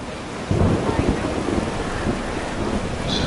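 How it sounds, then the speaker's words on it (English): A thunderstorm in the video game Life Is Strange Double Exposure: a dense, steady roar of heavy rain with a deep rumble of thunder swelling in after a brief moment, loud and continuous throughout. "Wow, there's literally a giant storm getting ready to happen."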